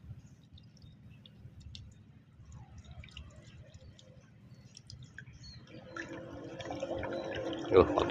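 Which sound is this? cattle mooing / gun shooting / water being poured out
water being poured out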